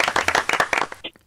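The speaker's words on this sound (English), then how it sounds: "it's a round of applause" A short burst of clapping from a group of people, brisk and uneven, fading out quickly at the end.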